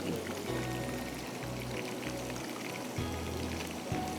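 Oil poured into a pan for making Schezwan sauce, a soft continuous trickling pour with low steady hum in a home kitchen.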